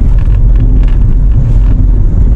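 Car driving along a low, flat road on the way from Cape Bojeador Lighthouse to Kapurpurawan Rock, a loud continuous engine and road rumble with wind buffeting the microphone throughout.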